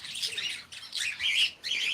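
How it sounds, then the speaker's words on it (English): Small aviary birds such as kakariki, Chinese painted quail, zebra finches, lovebirds and budgerigars twittering in repeated bright bursts of chirps, close and busy, with no voices. "kakariki, silky chickens, Chinese painted quail, zebra finch, lovebirds, and a budgerigars"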